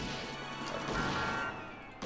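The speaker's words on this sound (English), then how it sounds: "literally crashing into the vehicles in front of me" A car in the Policenauts video game crashes into the vehicles ahead, heard as a dense, sustained crunching smash about two seconds long that ends abruptly.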